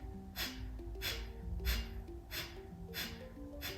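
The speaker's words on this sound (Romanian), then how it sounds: "Expiră cu putere din abdomen, doar pe nas." Forceful exhalations pushed out through the nose from the abdomen during breathwork, five sharp rhythmic bursts at steady intervals over soft music.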